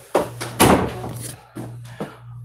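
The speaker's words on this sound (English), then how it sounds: "Close the door." Several dull thuds of a car door shutting, the loudest near the start and two softer ones later, heard close up over a steady low engine hum, with a voice speaking briefly.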